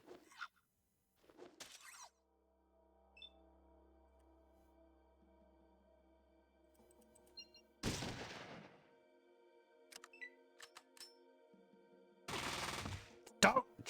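Gunfire in the Fallout video game, two sharp crackling bursts several seconds apart over a quiet background of low hum and small clicks, loud and close, with no talking.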